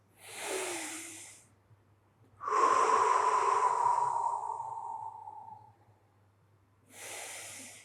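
Slow, deep breaths drawn in through the nose during a hamstring mobility stretch, close and soft, with three long airy breaths separated by quiet pauses and no talking.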